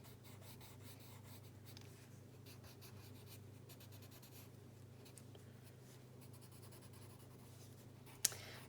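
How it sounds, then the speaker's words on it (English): Coloured pencil scratches steadily across paper in close, continuous strokes, adding finishing touches to a drawing, with a soft click near the end. "now I'm just doing the finishing touches with the pencil"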